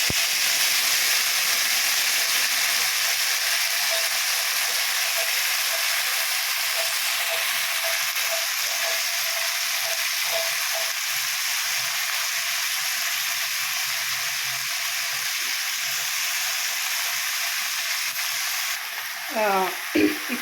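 Mint leaves sizzling and frying in a hot pan for a Telugu-style chutney, a steady bright hiss that holds throughout, with faint stirring scrapes and a brief clatter near the end.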